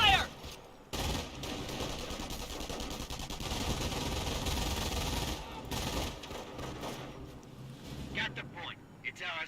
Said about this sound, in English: Taking rifle fire!